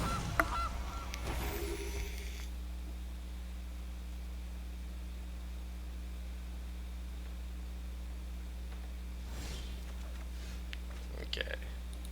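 A goose honks as its card is played in a digital card game: a loud honking burst at the start, a second fainter honk near the end, and a steady hum between.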